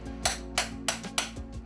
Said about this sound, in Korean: 금박에 도장 모양의 모형을 대고 망치로 두드려 찍어주면